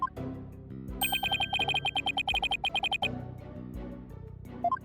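A cell phone rings in the Ace Attorney video game, a string of repeated electronic chime tones over a background music track, with short melodic blips before and after.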